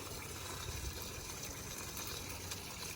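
Water runs steadily from a hose or can onto a garden bed, a continuous gushing wash of liquid with no pauses, fairly close and even in level throughout.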